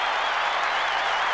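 A crowd of 74,954 at the MCG in Melbourne gives a standing ovation to both teams after a 1990 AFL elimination final, a dense, continuous roar of applause and cheering heard from within the stands.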